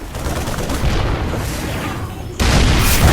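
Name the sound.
siege tank fire and explosions in StarCraft II video game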